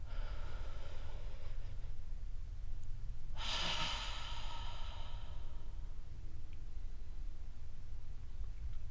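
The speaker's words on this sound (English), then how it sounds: "go ahead and take a deep breath in with me right now" A single deep breath drawn in close to the microphone, starting with a soft airy pull and swelling into a stronger rushing inhale, then trailing off into quiet.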